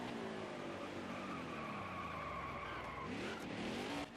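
Race car sliding sideways with tire squeal and engine roar in the NASCAR Heat 5 racing video game, a continuous loud skid lasting several seconds before fading slightly at the end.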